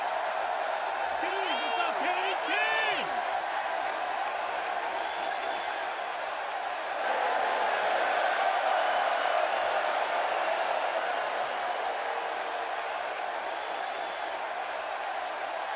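An arena crowd in the WWE 2K16 wrestling video game gives a continuous roar, with a few shrill whistles early on and the cheering swelling midway before settling back to a steady din.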